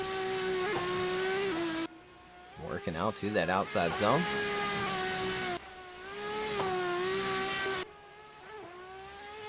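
A drift car at Brno Circuit during qualifying revs hard and holds a steady engine note, with a burst of squealing tires midway, while a commentator talks over it.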